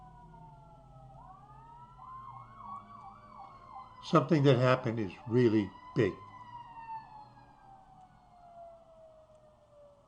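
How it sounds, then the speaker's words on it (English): Fire engine sirens wail past from a distance, rising and falling in a steady up-and-down sweep over about ten seconds, with a person talking loudly over the middle of the pass. "Those are more fire engines."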